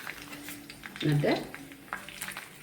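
Four or five sprigs of curry leaves sizzle as they hit hot coconut oil in an iron pan for frying fish. A brief crackling burst rises, then settles into a quiet, steady hiss.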